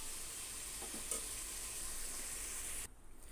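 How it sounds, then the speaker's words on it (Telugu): Prawns frying in oil for a prawn biryani give off a soft, steady sizzle that cuts off abruptly near the end, close but quiet. "మంచిగా ఫ్రై అవుతున్నాయి."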